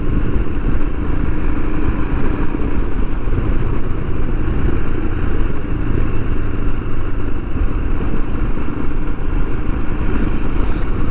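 A Royal Enfield Himalayan motorcycle ridden along on a run out, with a steady, loud engine drone and wind rush close up that holds at an even level throughout, and no voices.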